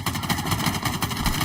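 Rapid gunfire from a Halo Infinite match, a fast, evenly spaced burst of sharp shots repeating about every tenth of a second, loud and up close with a mechanical hum underneath.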